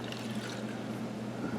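Freeze-dried food mix poured into a pot of boiling water, giving a continuous bubbling, trickling liquid wash with a low steady hum beneath, no talking.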